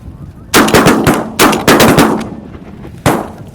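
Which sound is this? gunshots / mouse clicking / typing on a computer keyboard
gunshots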